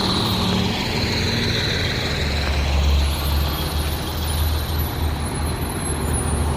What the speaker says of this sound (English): there's a garbage truck here